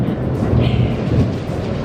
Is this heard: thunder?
yes